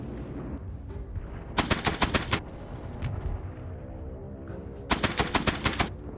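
Two loud bursts of machine-gun fire in Beach Invasion 1945, each a quick string of sharp rounds, separated by a few seconds of low battle rumble.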